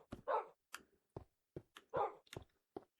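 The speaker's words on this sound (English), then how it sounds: "Oh my god, there's a dog army." A pack of dogs in the Minecraft video game barking repeatedly, a series of sharp yips and fuller barks at an uneven pace, fairly quiet and with nothing else heard.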